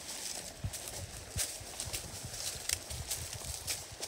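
Horse hooves clip-clop at a steady walking rhythm on a trail ride along Gauley Ridge in Virginia, the irregular close thuds repeating throughout against a light outdoor background.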